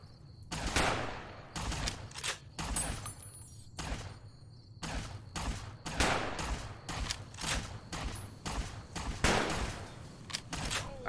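Rapid bursts of automatic gunfire firing AP rounds in Fallout: New Vegas, about a dozen loud broadband volleys in uneven rhythm across the stretch, with steady low rumble between shots and no speech.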